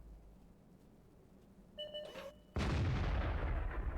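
Artillery shell fire in the World of Tanks video game: a short electronic beeping tone followed by a sudden loud, sustained boom that rolls on and slowly decays, close and dominant, with no talking.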